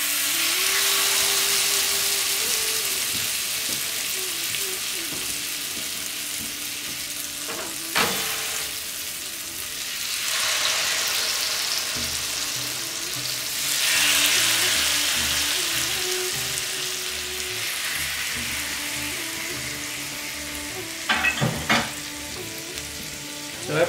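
Chicken malai tikka skewers fry on an oiled grill hot plate over a medium flame, giving a continuous close sizzle with crackling spits and a few louder pops and clinks throughout.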